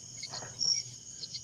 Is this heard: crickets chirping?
yes